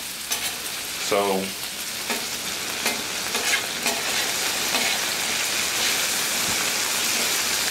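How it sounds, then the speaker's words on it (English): Raw potatoes sizzle in oil on a Blackstone griddle top, a steady, dense hiss with a few scraping clicks and one brief spoken word early on. "We want to let these potatoes cook down a little bit."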